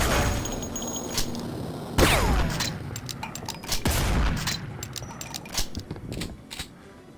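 Rapid bursts of gunfire in a video game, sharp cracks and booms firing in irregular volleys with clicks between them, loud and close with no talking.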